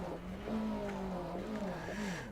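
A Renault Alpine rally car in Dirt Rally, on a Finland stage, revs and drones steadily with rising and falling engine pitch, close and fairly loud, alone without talk.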